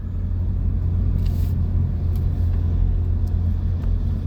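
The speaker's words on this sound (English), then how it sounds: "he's in a brand new Honda sports car" A brand new Honda sports car driving by, a steady loud low engine and road rumble that holds throughout with faint brief higher swishes from traffic.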